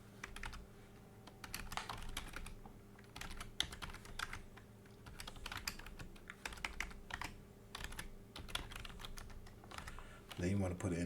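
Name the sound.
typing an email address on a computer keyboard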